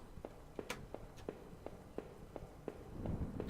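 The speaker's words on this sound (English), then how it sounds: "Sir, your footsteps are really loud." Evenly paced footsteps thud in the video game Home, quiet and somewhat distant, with a slow steady rhythm over a low background rumble that swells near the end.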